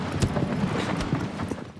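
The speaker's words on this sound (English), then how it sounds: "Riding around with nothing but the sound of your horse and nature helps to build up the thick atmosphere." Horse hooves clip-clopping at a steady riding pace across open ground in the video game Shadow of the Colossus, close and fairly even, with faint ambient nature in the background.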